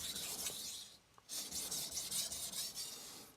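A German steel cook's knife having its edge bevel ground on a coarse Shapton Kuromaku 320 whetstone: close, raspy scraping strokes in a quick back-and-forth rhythm, with a brief pause partway through and no voices.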